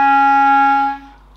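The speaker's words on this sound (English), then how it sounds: "The first one that we learn is the E flat on the bottom line of the staff," A clarinet holds a single sustained low E flat on the bottom line of the staff, fingered as a D with the side trill key, a steady reedy tone for about a second before it stops and a faint ring fades.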